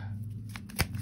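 A tarot card is shuffled and drawn, giving a few soft, close slides and one sharper snap, all faint.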